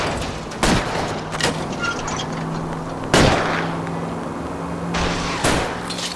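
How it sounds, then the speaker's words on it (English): Gunfire in the L.A. Noire video game during a car chase, three sharp gunshots spaced a couple of seconds apart over a steady engine hum. "I'll try to shoot out his tires."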